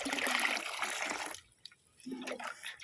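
Liquid fertilizer mixed into a bucket of water for garden plants makes a close splashing, sloshing burst, then a short quiet gap before more stirring and trickling water.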